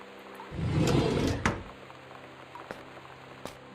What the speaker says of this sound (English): You can flush the toilet.